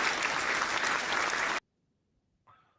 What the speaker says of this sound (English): That was applause.